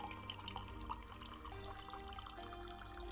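Water poured from a tap into a glass in a home kitchen with hard water, a steady close trickle and splash running alone at low level throughout.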